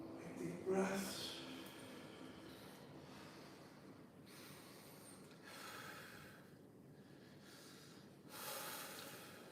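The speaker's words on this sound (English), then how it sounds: "Deep breaths." Slow, deep breaths during a mobility exercise session, with a sharp snort-like inhale near the start followed by several soft, airy breath swells at steady intervals, faint and close.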